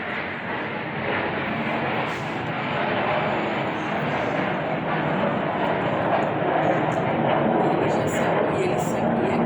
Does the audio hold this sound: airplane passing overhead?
yes